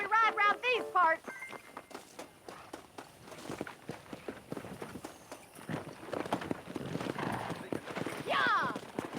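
Horse hooves clatter in a quick, steady gallop while riding in Red Dead Redemption, with a horse neighing briefly near the start and voices speaking over the rhythm.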